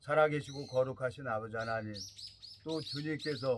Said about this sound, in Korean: 이 산에 와서 새소리가 들리고